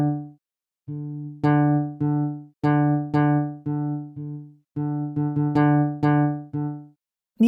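Sampled D notes from a velocity-switched Kontakt instrument, played as a series of about a dozen separate tones at medium and louder strengths. Each note has a sharp attack and a ringing, harmonically rich decay, sounding up close with short gaps and no talking.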